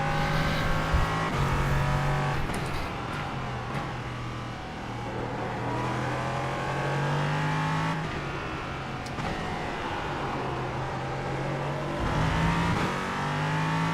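LMP3 and GT4 race car engines roar around Indianapolis in a racing video game, loud and close, with the pitch rising and falling through gear shifts and braking, and a steady dense drone throughout.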